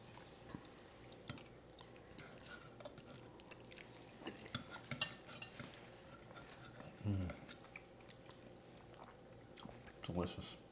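Quiet, close chewing and soft bites of creamy chicken spaghetti soup, with clinks of spoon and bowl and a few sharper smacks, all faint and intermittent.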